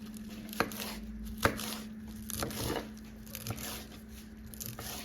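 A knife chops through food on a cutting board during a quick Jamaican dinner prep, giving a few spaced, crisp knocks, close and fairly quiet, over a low steady hum.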